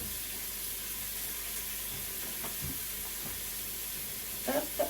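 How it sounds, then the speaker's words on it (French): A kitchen tap runs steadily while hands are washed beneath it, a soft continuous hiss of water with a few faint splashes and clinks near the end. "Je me lave les mains."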